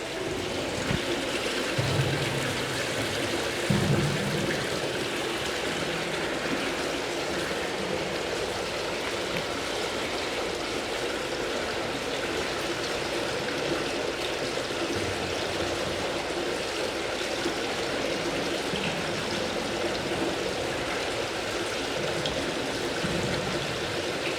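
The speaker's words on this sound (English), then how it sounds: "they've actually activated this water feature so you can get a sense of the sound of the space" A water feature in the harem of Topkapi Palace runs in a steady, full rush and splash, echoing evenly through the space for the whole stretch with no break.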